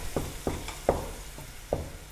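Chopped garlic frying in oil gets stirred, with a soft sizzle underneath and four or five scraping strokes of the spoon at an uneven pace, close by and without talk.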